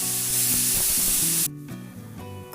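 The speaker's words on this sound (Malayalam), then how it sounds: "കുക്കറിൽ ഇപ്പോൾ ഒരു വിസിൽ വന്നിട്ടുണ്ട്" A pressure cooker holding Kerala-style sambar lets out a loud, steady steam hiss that cuts off abruptly partway through, leaving a quieter kitchen background.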